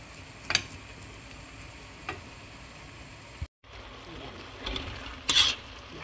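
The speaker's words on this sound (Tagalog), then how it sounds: "niluluto ko yung bacon natin" Bacon frying in a pan as part of a homemade pasta dish, a low steady sizzle with a few louder clinks and stirring scrapes breaking through, close by and with no talking.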